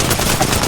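Short stretch of loud, fast automatic enemy gunfire in a shooter game, rattling shots in quick succession.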